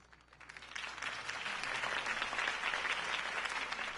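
A crowd applauds after a campaign speech in a Batman video game, clapping that swells from quiet to a steady, full roar and holds, sounding somewhat distant and smooth.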